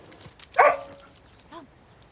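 A dog named Paco gives a short, sharp whimpering yelp up close, then a softer bark-like whine a moment later, with quiet room noise between.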